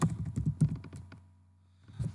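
Keys tapped on a computer keyboard in a burst of quick, close keystrokes, then a short pause before a few more taps at the end.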